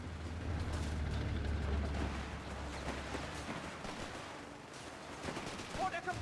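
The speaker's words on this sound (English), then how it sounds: "They're fighting a heavy machine gun." Heavy machine gun fire crackles in rapid bursts through a Company of Heroes 3 battle, layered with low rumbling explosions and mechanical clatter, dense and loud throughout.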